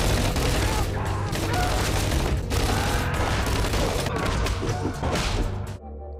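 A chaotic film shootout bursts with dense, continuous gunfire and heavy impacts, loud and sustained with crashes mixed in, cutting off abruptly near the end.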